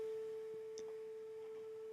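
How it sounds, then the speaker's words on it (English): A steady 440 Hz sine tone from a Pure Data oscillator holds constant and clean throughout, with faint background noise. "And there we hear a 440 Hz sine wave signal"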